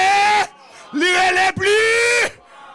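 Loud shouting at a church service, three long sustained yells with brief pauses between them, close and dominating, voiced like rising cries from the congregation.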